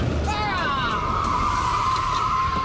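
A car speeding in reverse and skidding, with a loud tire squeal that sweeps and then holds steady over a constant engine roar, close by, and no talking.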